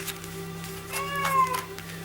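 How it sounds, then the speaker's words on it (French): A small female cat gives a short, unhappy meow with a rising, wavering pitch, faint and somewhat distant over a steady low hum. "Si vous entendez un petit chat, une petite chatte, c'est ma petite chatte étoile qui est pas bien contente"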